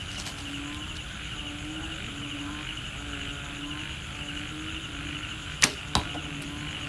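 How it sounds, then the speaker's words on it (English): An arrow loosed from a 75 lb Kaya Korean Traditional Bow drawn to 31 inches gives a sharp release snap, then a second crack moments later, both standing out over a steady background hum with no talk. "Let's try to shoot some arrows."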